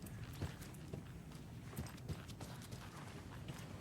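Footsteps in the Alan Wake II horror game, a faint steady run of soft thudding steps with quiet background ambience, no talking.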